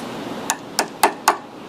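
Pliers used as a hammer on a boat trailer's bunks and fittings strike four sharp, close metallic taps, evenly spaced about a quarter second apart over quiet background.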